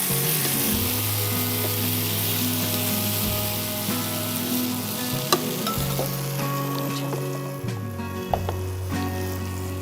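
Shish tawook chicken pieces frying in a pan, a steady loud sizzle with crackling spits close by and a few soft knocks of stirring.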